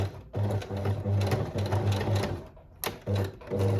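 A sewing machine stitching the thick hem of a pair of trousers, its motor running in bursts of rapid needle clatter with brief pauses between them, close and loud.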